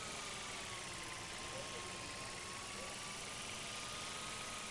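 Toy drone flying around a school campus in the video game Life is Strange, a steady whining buzz with a faint wavering pitch that holds evenly over a constant background hum.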